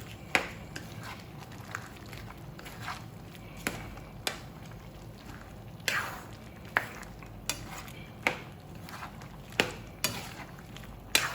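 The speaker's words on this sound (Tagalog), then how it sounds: "Guys, pwede natin itong haluin" A spoon stirs dinuguan, a Filipino pork blood stew, in a cooking pot, scraping and clinking against the metal in regular knocks over a soft simmering hiss, close and fairly clear.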